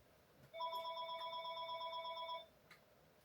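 A home landline telephone rings in one steady electronic trill lasting about two seconds, loud and clear against a quiet room, then stops.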